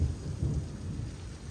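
Deep, rolling thunder rumbles continuously after lightning strikes a tower, with steady rain hissing over it and no voices.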